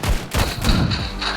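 Pistol shots in the mobile shooter Standoff 2 crack out in a quick close run of several loud bangs with thumping low ends, packed into under two seconds of game audio.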